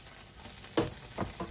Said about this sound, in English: to my skillet here, I'm gonna add in a spoonful of butter and some vegetable oil